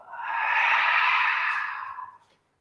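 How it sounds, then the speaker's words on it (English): A single full exhale through the mouth during a beginners yoga session, one long breathy rush that swells, holds, then tapers off into silence. "And then a full exhale through your mouth"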